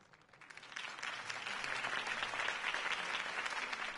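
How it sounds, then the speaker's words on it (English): A crowd applauds in the Batman Telltale video game, the clapping swelling from quiet to a full, steady ovation heard from a distance, with no voices over it. "could have heard that applause"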